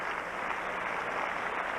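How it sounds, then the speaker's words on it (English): Crowd applauding at the 1994 US World Team Trials in women's gymnastics, a dense, steady wash of clapping from a large arena audience that holds at an even level throughout. "The audience is starting to clap."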